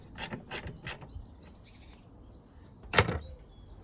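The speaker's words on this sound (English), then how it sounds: "And this one at the back here, another screw going in." A screw is driven into the rear interior trim of a BMW E91 318 Touring. A few quick mechanical ratcheting bursts are followed by quiet, then one sharp, louder click or snap near the end, all close up.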